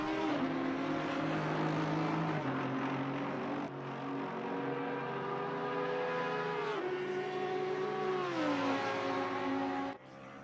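Race engines of an Aston Martin and a Lexus GT3 car in a racing video game at Suzuka: a steady, loud engine drone whose pitch climbs and drops through several gear shifts, with one car running close behind the other.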